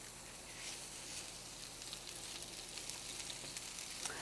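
Spinach goes into a pan with caramelized onions and sizzles softly, a quiet steady crackle of frying with faint stirring and no voices.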